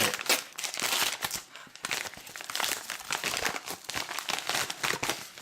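A thick, double-wrapped envelope being torn and unwrapped by hand, with continuous loud crinkling and crumpling paper and plastic for several seconds, sharp rustling bursts close up and no talking.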